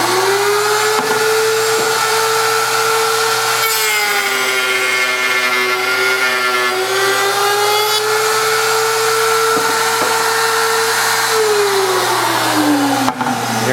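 A router spins with a steady high whine as a bit cuts wood pushed through a router table, its pitch dipping slightly under load and rising again, loud and continuous.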